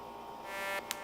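An edited electric synth buzz from a music production drones as a steady, harmonic-rich hum for about a second, with a short bright burst near the end.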